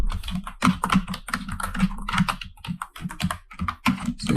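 Computer keyboard keys pressed in quick, uneven bursts of close, crisp clicks, with no voices over them.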